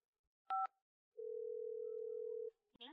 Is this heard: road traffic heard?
no